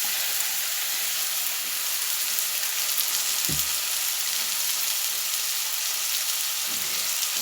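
Rice with a little salt frying and being stirred in a pot over very low heat, giving a steady soft sizzle and hiss throughout, with a brief scraping stir near the middle.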